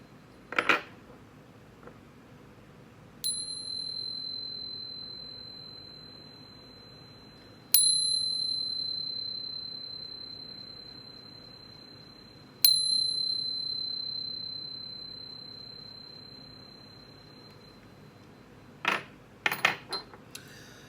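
A bright metallic chime struck three times at even intervals, each tone ringing clear and sustained before slowly fading, with a few brief clinks near the end over a quiet background hum.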